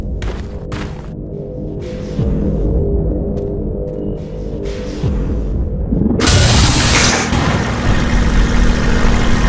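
Lift machinery in Half-Life 2: Episode Two, a loud mechanical engine-like rumble with intermittent clanks and knocks, swelling into a broad roaring noise partway through.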